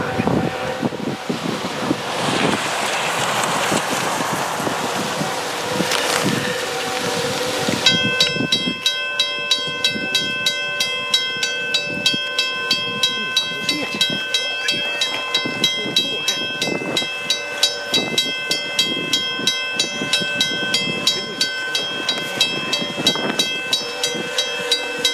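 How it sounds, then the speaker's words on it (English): A freight train pushing through snowdrifts on railroad tracks, a loud rush of wind and snow giving way to a long run of regular, clattering wheel beats, close and continuous. "you got to watch and listen to this freight train plowing through the snowdrifts"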